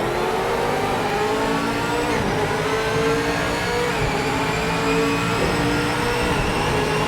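Race car engines in Project Motor Racing roar loudly and steadily at high revs, with pitch shifting as the cars run down a straight, and no talking.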